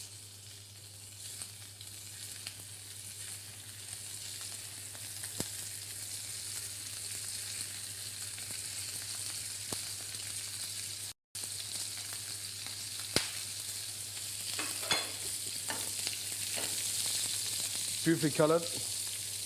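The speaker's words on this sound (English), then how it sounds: "Non-stick pan, smoking, generous on the olive oil," Langoustines sauté in generous olive oil in a smoking non-stick pan, giving a continuous loud sizzle and crackle throughout. A few scrapes and clatters of a spoon come near the end, and a voice speaks briefly over the frying.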